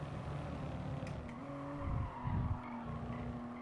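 Tire squeal as a Toyota GR Supra RZ race car snaps into oversteer at Catalunya in the GT Sport racing game, a brief skid over steady engine drone with short bursts of louder scrubbing near the end.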